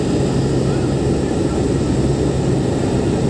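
A C-130 military transport plane flies at altitude after takeoff, producing a loud, constant, droning engine roar with no break, heard from inside the aircraft.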